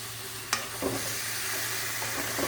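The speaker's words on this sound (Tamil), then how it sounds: "அப்படியே ஒரு மீடியம் ஃப்ளேமில் வச்சு நல்லா வதக்கலாம்" Mutton with tomato, salt and turmeric sautéing in a pan over a medium flame, giving a steady close sizzle with a sharp scrape of stirring and a few softer stirring clatters, no talking.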